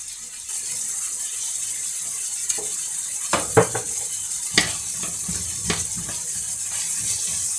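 Carrots frying in a large pan give a steady sizzle with a few sharp clicks and scrapes of stirring in the middle, no voices.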